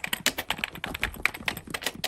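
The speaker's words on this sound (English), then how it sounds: "I've got to get typing." Quick, steady typing on a computer keyboard, close and clear, with crisp key clicks in an uneven run and no one speaking.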